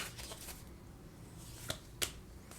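Tarot cards are shuffled for a love reading, giving soft riffling flutters followed by two sharp card snaps near the end, close and quiet.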